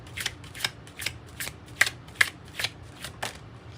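Tarot cards being shuffled, a steady run of about ten crisp riffling flicks in even rhythm, close and fairly loud, with nobody talking.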